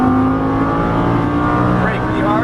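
A Lamborghini engine revs under throttle from inside the car, a loud steady roar with a rising pitch toward the end, while an instructor talks over it.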